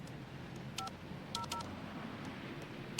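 Telephone keypad DTMF tones entering a PIN for an investment firm's phone line: several short, distinct beeps in two quick clusters over a faint background hiss, with no talking.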